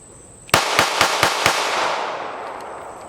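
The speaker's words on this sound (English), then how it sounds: "And then with the Ruger, just we're going to shoot 5 rounds fast." Five rapid pistol shots from a Ruger LCP Max, sharp loud cracks in quick succession with a ringing tail fading afterward.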